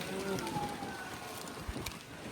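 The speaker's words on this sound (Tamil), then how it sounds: "நம்ம காத்தடிக்குது" Gusty wind buffeting a microphone on a rooftop vegetable garden, a steady rushing noise with soft thumps, while a voice speaks faintly in the background.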